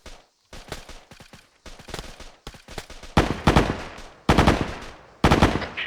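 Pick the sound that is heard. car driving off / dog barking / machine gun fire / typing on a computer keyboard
machine gun fire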